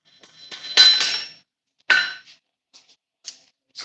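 A blacksmith's specialized hammer, with a flat face and a round face, strikes metal at a forge, giving a few sharp ringing clanks with gaps between them, then lighter taps that fade out.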